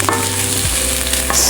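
Curry ingredients for a sweet potato and red lentil curry fry loudly in a pan, a dense steady sizzle with stirring scrapes and a low hum, close up with no voices.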